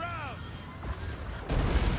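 Artillery fire pounds infantry in Total War Warhammer 2, with a distant boom and rumbling impacts mixed with whooshing projectile sounds and battle noise, swelling louder toward the end.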